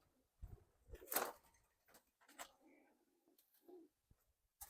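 Madrasi pigeons kept in small cages at a seller's place in Narendrapur coo in a few soft, low bursts, with one louder flutter-like burst near the start and quiet gaps between calls.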